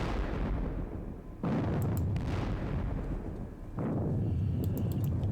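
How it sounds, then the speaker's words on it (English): Artillery fire in a Napoleonic wargame of the Battle of Friedland, with Russian guns firing. Two heavy booming blasts land about two seconds apart, loud and close, over a constant rumbling battle background. "damn these Russian guns."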